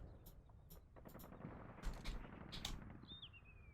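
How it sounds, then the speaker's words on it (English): MP40 submachine gun fire in the World War II strategy game Combat Mission, quiet distant bursts of rapid shots crackling over a low battlefield rumble, with a faint high whistle near the end. "it's not machine gun, it's just an MP4"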